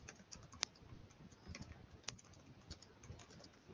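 Faint computer keyboard typing: scattered, uneven key clicks with a couple of sharper taps, close but quiet, with no one talking.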